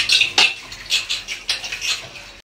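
Dishes clink and clatter as they are washed by hand, with steady bursts of metal and ceramic knocks mixed with splashing water, close and fairly loud, and no talk.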